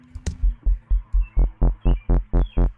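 Distorted synth sub bass from Operator with filter drive pushed up, a run of about ten even, throbbing low pulses in a steady rhythm, growing fuller and grittier as the distortion is brought in, with no other sounds.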